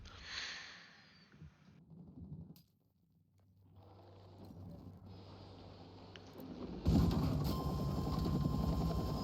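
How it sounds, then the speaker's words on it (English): A helicopter in the Battlefield 6 video game, mixed with other game sounds and mechanical noise that shift over time. A loud, broad roar surges in near the end. "The chopper pilot bailed."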